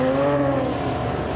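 A BMW 135i production race car, number 19, circling a track at an Australian Production Cars race, its engine note a steady close drone that eases slightly over a short moment.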